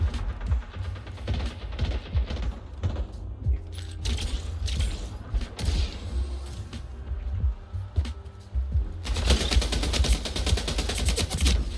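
Rapid video game gunfire rattles in dense bursts of sharp shots, loud and close, broken by short gaps before a final sustained volley.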